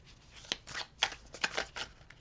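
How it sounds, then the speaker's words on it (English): Tarot cards being shuffled by hand in a few uneven bursts of riffling and slapping, close and fairly quiet, with short pauses between attempts. "Boy, I'm having a hard time shuffling today, aren't I?"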